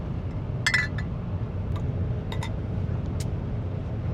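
Soda bottles clink together in a toast: a couple of quick glassy taps, then a few fainter light ticks, heard over a steady low background hum, likely inside a car.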